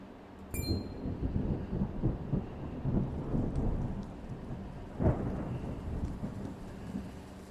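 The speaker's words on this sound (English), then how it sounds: "Honest to goodness, rain." Rain pours steadily in Triangle Strategy while rolling thunder rumbles underneath, with a sharp crack near the start and another louder burst toward the end.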